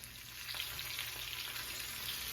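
Chicken pieces browning on one side in a pan on the stovetop, a steady, soft sizzle and crackle of frying that holds evenly without interruption.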